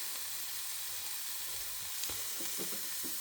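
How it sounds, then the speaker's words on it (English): Mushrooms fry in a pan with a steady, dense sizzle throughout, joined near the end by a few soft stirring scrapes, close up with no talking. "We'll fry it up together with these mushrooms"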